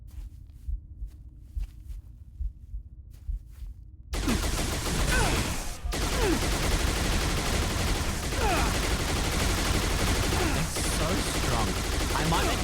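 Dense, continuous gunfire from a modded enemy in a video game bursts in suddenly after a quiet stretch of soft ticking and low hum, then stays loud and sustained to the end.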